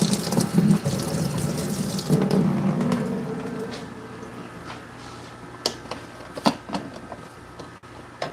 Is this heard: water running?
yes